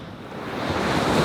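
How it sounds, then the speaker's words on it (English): Waves breaking in light surf along a beach gutter over a shallow sand bank, a steady broad wash of rolling water with wind noise, swelling slightly louder toward the end, no voices. "You can see where the waves are breaking on a shallower bank on the outside of the gutter"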